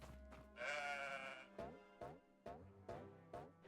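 Sheep bleating in a video game: one long wavering bleat, then a series of shorter, evenly spaced bleats, loud and close with no talk over them.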